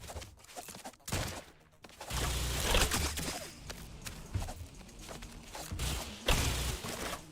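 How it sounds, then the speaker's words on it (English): A carpet bomb attack in the video game Vampire Crawlers: a rapid string of loud, dense blasts and impacts that rumble on continuously for several seconds, with sharp bursts scattered throughout. "The carpet bomb."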